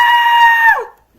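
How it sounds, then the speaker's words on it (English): A cartoonish character scream from The Legend of Zelda: Twilight Princess, a loud, high, sustained wail lasting under a second that bends downward and cuts off, alone with no talk. "After Link finally finished screaming like a little girl"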